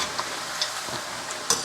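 Beef meatballs frying in oil in a pan, a steady close sizzle with a few soft pops and light clicks of stirring, no talk.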